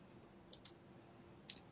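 Three sharp computer mouse clicks while selecting files, two close together then one after a pause, crisp and near against quiet room hiss.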